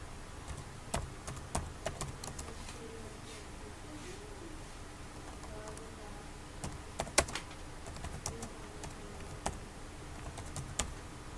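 Typing on a computer keyboard while HTML code is entered: quiet, irregular clicks in short bursts with a few sharper key strikes, and a voice talking softly underneath.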